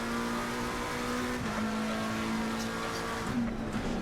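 A race car in the racing game Assetto Corsa Competizione holds a loud, sustained engine drone near the listener, with pitch shifts from gear changes and throttle variation and brief bits of tire noise throughout.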